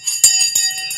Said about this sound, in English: The Sensei bell.